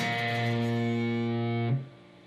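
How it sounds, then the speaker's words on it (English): One distorted electric guitar note on the 2nd fret of the A string rings steadily with effects, then is abruptly muted near the end, with no talking. "The only note that will ring out will be the 2nd fret of the A."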